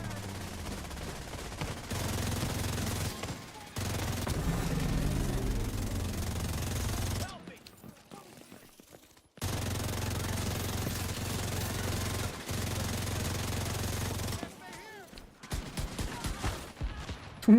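Gunfire in The Division 2, loud sustained bursts of shots with a brief quiet gap, then more firing resuming, dense and continuous with game effects mixed in.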